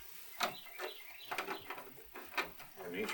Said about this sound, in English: I do have some birds outside somewhere.